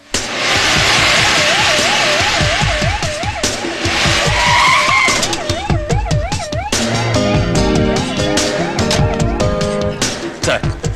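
A car speeds off with tyres skidding in a Tamil film scene near a hospital emergency ward, a loud screeching rush overlaid by a warbling wail before an abrupt cut to a busier burst.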